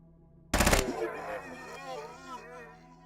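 A short, sharp burst of automatic gunfire in the turn-based shooter Quasimorph, loud for about a quarter second, followed by someone talking over a steady background hum.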